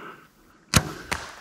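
An arrow released from a bow strikes an elk at 30 yards: a sharp, loud impact thump, followed about a third of a second later by a second, softer crack, with quiet outdoor air around them.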